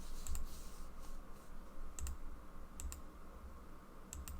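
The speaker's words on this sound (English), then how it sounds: "why I'm typing instead" Soft clicking keystrokes on a computer keyboard, a few sparse taps in small clusters over steady background hiss, fairly faint and close.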